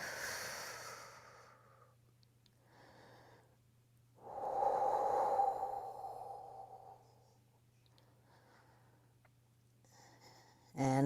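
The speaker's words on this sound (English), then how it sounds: "And breathe." Slow breathing during a Pilates stretch on a mat: a soft exhale at the start, a longer, louder breath in the middle, then quiet, all close and calm over a low steady hum.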